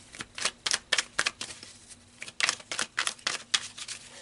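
A deck of tarot cards is shuffled by hand, giving rapid riffling flicks in two quick runs separated by a brief pause, close and crisp with no talking.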